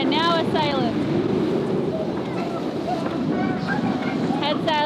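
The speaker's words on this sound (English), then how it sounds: "Okay, now we're sailing." A sailboat under way with its head sail out near the island of Yakushima, Japan, carrying a steady rush of wind and water beneath repeated whistling or tonal calls that come and go, with close talk.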